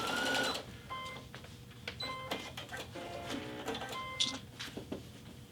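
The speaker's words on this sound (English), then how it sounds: "I'm going to sew a little bit" Baby Lock Vesta sewing and embroidery machine stitching a seam in quick, uneven bursts of mechanical whirring and needle clatter, with brief pauses and clicks between runs, recorded up close at moderate loudness.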